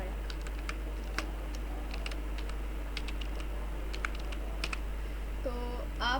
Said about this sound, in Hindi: टी प्रेस कर दिया मैंने कीबोर्ड से